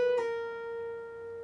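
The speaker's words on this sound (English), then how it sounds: "you're going to take your middle finger and you're going to hammer on to the 13th fret of the B and then immediately pull back off." A single guitar note on the B string gets a quick hammer-on to the 13th fret and an immediate pull-off, with a brief bright pluck near the start before the tone rings on and slowly fades, close and clean.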